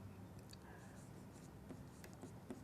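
Pen or chalk writing out given values for a circular garden maths problem, faint scratchy strokes and taps in quiet room tone.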